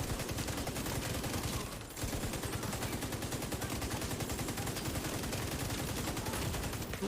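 A big gun in The Division 2 fires sustained automatic bursts, dense rapid rattling that pauses briefly and then continues loud and steady.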